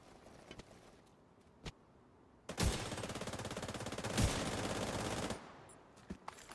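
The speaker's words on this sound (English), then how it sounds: "They're shooting men out of manholes" Automatic gunfire in The Division 2: a few isolated shots, then a sustained rapid burst of fire lasting about three seconds, fairly distant and moderate in level, followed by scattered single shots.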